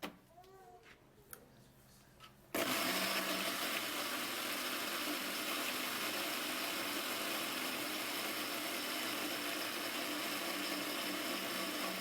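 A blender whirs up a drink to look younger, switching on abruptly after a few seconds of quiet clatter and then holding a loud, steady, dense roar to the end.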